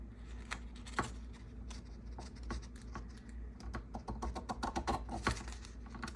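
Paper pieces cut for a Halloween journal, with scissors making repeated crisp snips and rustles close by, quiet at first and then quicker, denser cuts toward the end, with no talking.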